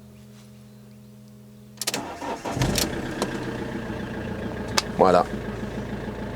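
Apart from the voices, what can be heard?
van engine starting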